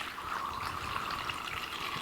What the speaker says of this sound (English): I'm actually going to put just a little bit of water in this tray